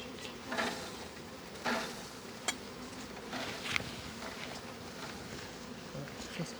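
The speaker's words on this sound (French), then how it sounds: "il y a déjà plein d'abeilles" Honeybees buzzing around a crowded hive, a dense continuous hum close by, with louder swells as bees pass near and a few soft knocks from handling the hive.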